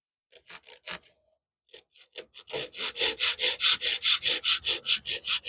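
A hand saw cuts through wood for a deck box with light downward pressure. A few tentative short strokes come first, then a steady run of rhythmic rasping back-and-forth strokes, close and fairly loud.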